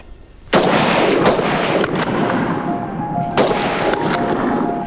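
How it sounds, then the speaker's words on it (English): A rifle fires at an Alaska brown bear outdoors: a sharp, loud shot with a long rolling echo, followed by further shots a few seconds apart. "So I counted to 3, took off my safety, and I took the shot."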